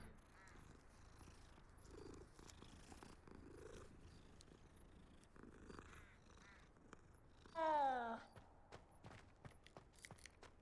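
A cat in the Hogwarts Legacy game purrs softly and faintly amid light footsteps, followed by a brief, louder meow-like cry after being stepped on.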